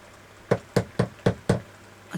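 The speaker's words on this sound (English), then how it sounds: "I'll give him a little knock." Five sharp knocks on a door at home, evenly spaced and fairly close, rapping out a steady rhythm over a quiet room.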